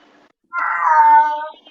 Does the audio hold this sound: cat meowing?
yes